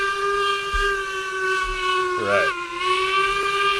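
A steam locomotive whistle from RailRoads Online blows as a loud, sustained multi-tone chord, briefly dipping and wavering midway before holding steady again, with a voice speaking briefly underneath.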